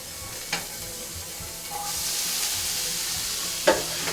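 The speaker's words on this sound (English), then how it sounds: "so I'm going to add some jalapenos to a pan" Jalapenos fry in a pan with a little leftover cooking oil, giving a steady close sizzle with stirring scrapes and a couple of sharp clinks of utensil against pan.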